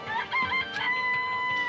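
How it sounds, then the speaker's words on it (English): Chicken in the video game Danganronpa: Trigger Happy Havoc, giving a short run of close clucks and a drawn-out crow-like call, clear and alone with no talk. "Let's check every chicken. It's a chicken."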